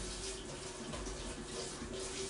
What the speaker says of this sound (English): I wash my vegetables off anyways